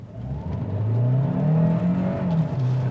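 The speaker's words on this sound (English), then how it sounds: "I'm in eco right now, and I will put my foot down all the way and just take a listen" A 2021 Hyundai Santa Fe Hybrid in eco mode accelerates at full throttle, its engine note steadily rising in pitch as it pulls, with a loud, sustained drone and a whirring electric tone underneath throughout.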